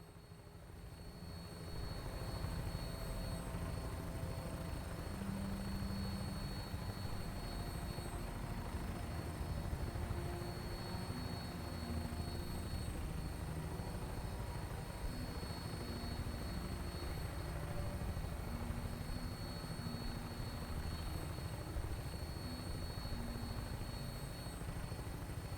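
An aircraft flying on final approach in Fallout 4 gives off a steady, loud rotor-like engine drone that holds evenly for the whole stretch, with a faint high whine above it and no voices.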